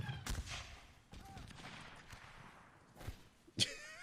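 Gunfire volley in the video game North & South during a line battle, scattered cracking shots and small pops of a fusillade, mostly distant and faint, with one sharper crack near the end.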